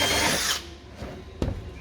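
A power drill bores holes in a caravan fridge during a Dometic or Electrolux seal replacement, giving a short, close, loud whirring burst that trails off, then a brief sharp bump.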